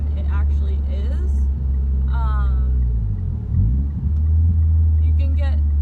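Car with a manual transmission shifting into third gear drones low and steady, the engine pitch sweeping down and then settling midway through, with a person talking intermittently over it.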